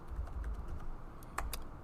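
Quiet, close computer keyboard typing, soft scattered key taps with a couple of sharper clicks near the end over low room noise, no talk.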